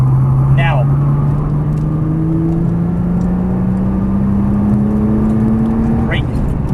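A Nissan GT-R on a race track holds a steady engine drone whose pitch climbs slowly under acceleration, with brief squeals near the start and end. The drone is close and loud from start to finish.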